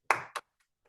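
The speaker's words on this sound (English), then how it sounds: "hairdressers need to get their claps too" Two sharp hand claps in close succession, loud and near, followed by silence with only faint trailing ticks; no voices present.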